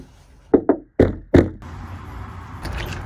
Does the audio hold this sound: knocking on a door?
yes